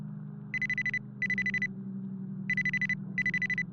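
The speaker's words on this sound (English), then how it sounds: "We gotta pick up the phone." A telephone rings in a video game, giving four electronic bell bursts in two pairs over a steady low droning game ambience, fairly clear and close.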